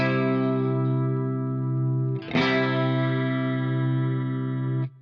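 An electric guitar chord with an open G string rings through chorus and distortion effects, sustaining evenly, then is restruck with a sharp attack partway through and rings on until it is cut off near the end.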